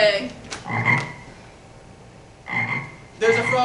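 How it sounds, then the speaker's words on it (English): A frog sound effect croaks in a stage play, two separate bursts of deep, rattling croaks with a quiet gap between them, heard alone without talk. "There's a frog up there."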